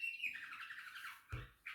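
Pet birds squawk indoors at home, one shrill drawn-out call followed by a couple of short sharp squawks, close by.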